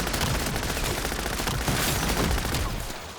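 Rapid bursts from an MP40 submachine gun rattle almost without a break in a zombies video game, a dense stream of gunfire that fades near the end.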